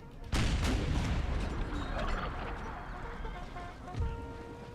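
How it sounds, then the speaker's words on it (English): Canister shot artillery fire in Empire: Total War, a deep booming blast that sets off a rumbling volley of cannon fire, then trailing echoes and a smaller second report, loud and close. "Give them a good canister blast."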